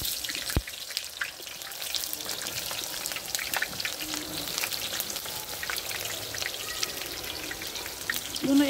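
Eggplant frying in hot oil, a steady close crackle and sizzle with scattered pops, continuing evenly throughout with faint voices in the background.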